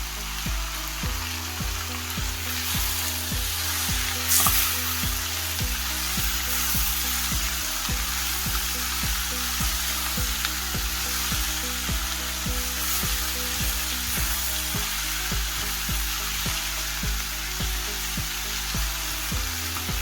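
Dry sprouts curry (baazi) sizzles and fries steadily in a pan over low-to-medium heat, a continuous close crackle with no voices.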